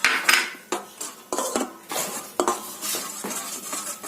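Eggs being beaten with refined oil in a bowl for a Christmas cake, heard as a series of close, irregular utensil clinks and scrapes against the dish, no voices.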